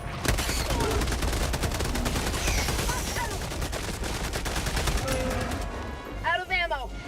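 Dense, rapid gunfire from Helldivers 2 rattles continuously in bursts, loud and close, with chattering game voices in the mix.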